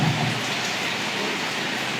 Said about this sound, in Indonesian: qadarullah hujan.